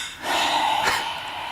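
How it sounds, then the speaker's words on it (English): Over a phone line, an out-of-breath grandmother exhales one heavy, rough breath that rises and fades with a slight snorting edge. "she was just like breathing heavily"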